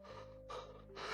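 A voice imitating heavy panting, three quick, breathy gasps in a row, close and soft.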